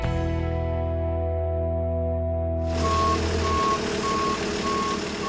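A 20-foot U-Haul truck's engine idles with a low, steady rumble, then a hiss cuts in and a reverse alarm starts beeping in an even, repeating rhythm close by, with no talk.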